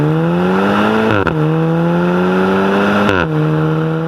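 A 2013 Audi S3 engine revs loudly up close, holding a steady high drone and then rising sharply in two quick blips, with a brief drop in pitch between them.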